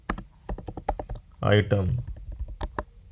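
Typing on a computer keyboard while writing HTML code, a run of quick, crisp key clicks in irregular bursts, close and clear, with someone speaking briefly in the middle.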